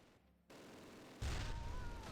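Heavy machine gun fire in the WWII strategy game Close Combat, a dense burst that starts abruptly partway through and continues loud and sustained to the end, with no voices.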